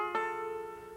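A single plucked note on a five-string banjo, fretted at the 7th fret of the first string up the neck, rings out clearly after a sharp attack and slowly decays, alone and close.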